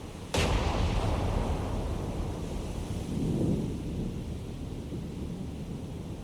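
Naval gunfire from a warship in War on the Sea: one sudden heavy boom at the start rolls into a long thunderous rumble, with a second softer low swell a few seconds later over steady sea noise.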